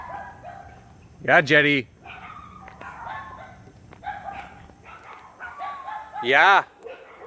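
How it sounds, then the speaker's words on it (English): Dogs bark at another dog in two loud, close bursts a few seconds apart, with a person speaking quietly in between. "my dogs are going after that dog, but they know that dog"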